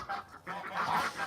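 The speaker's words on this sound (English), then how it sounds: "With chickens, ducks and geese, my goodness, these birds are so loud." Geese honking loudly and continuously among chickens and ducks in a farmyard flock, a close, brassy chorus of overlapping calls.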